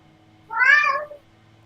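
A single clear cat meow, about half a second long and fairly close, rising and falling in pitch over a faint steady background hum.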